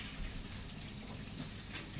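Tap water runs in a steady, full gush into a sink, close and continuous, as something is rinsed out in a home kitchen.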